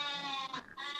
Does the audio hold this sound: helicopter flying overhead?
no